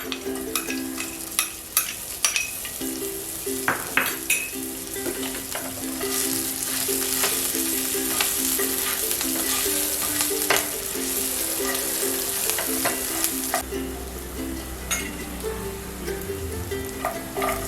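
Chilies sizzle steadily in a pan over a low flame, with sharp clicks and scrapes from stirring close by and a brief low rumble near the end.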